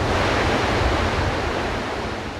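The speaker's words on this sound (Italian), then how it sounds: "Qui è la confluenza dei due fiumi, il torrente Alba e il torrente Molassa." Water rushing steadily where the Alba and Molassa mountain streams meet near Barcis, a loud, continuous broadband roar close to the bank with no voices.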